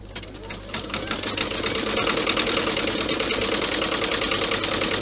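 An embroidery machine stitches ho-ho-ho lettering onto vinyl laid over stabilizer, running as a loud, continuous rapid mechanical whir and chatter that holds steady and builds slightly throughout.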